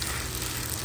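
Vermicelli frying in a pan with nuts and raisins, a dense, steady close sizzle that stays even for the whole brief moment, with no talking.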